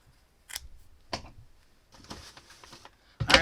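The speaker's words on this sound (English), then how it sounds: "Okay, so I'm going to cut." Scissors snipping through yarn while trimming a hat's tassel ends, a few short separate crisp cuts spaced apart, close and fairly quiet, with a louder final snip.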